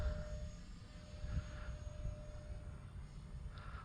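RC Dolphin jet trainer, a 4S electric foam model hand-launched with hot-glued landing gear, flying at half throttle: a steady faint engine drone with low rumble, heard at a distance without talk.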